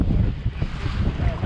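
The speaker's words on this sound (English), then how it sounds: "Well, we got the wind" Wind gusting across an open fishing boat on the water, a loud, steady rumbling roar against the microphone with faint talk beneath.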